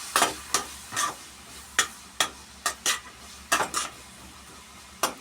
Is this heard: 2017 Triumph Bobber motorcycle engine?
no